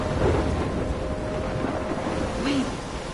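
Thunderstorm in the video game Life is Strange: a dense, continuous rumble of wind and rain at steady loudness, with a low roar throughout and no distinct individual thunderclap.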